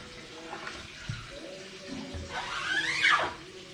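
Water from a tap or hose rinsing a screen-printing screen in a studio, a steady close splashing and gushing that swells toward the end, with a faint rising squeal over it.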